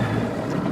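A fishing boat idles on the water while searching a ledge for fish, its low, steady engine rumble running unbroken through a brief moment.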